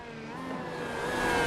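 An IndyCar race car in the iRacing sim roars in a steady, close, continuous engine drone that climbs gradually in pitch and loudness, with no talking.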